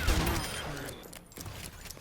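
Rapid gunfire from a weapon in the video game Overwatch, a dense burst of quick shots at the start that fades into a lower mechanical rattle, with no talk.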